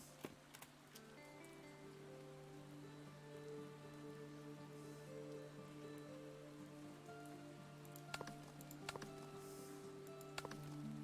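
Rain falls into a house in the video game Above Snakes, a faint steady patter with scattered drips and louder taps, over a low constant hum.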